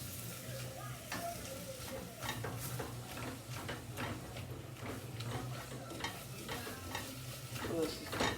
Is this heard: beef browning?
yes